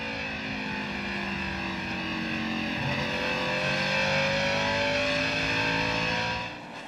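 Ron Hornaday's Napa Chevrolet race car in the 2000 Kroger 200, its engine roaring steadily from onboard at high revs with slight pitch shifts as it runs, loud and continuous with no talk.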